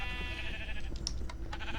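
Sheep bleat in a video game, a couple of short nasal bleats over a busy game backdrop of music and effects, moderately close, with no talking.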